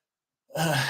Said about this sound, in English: I'm yawning again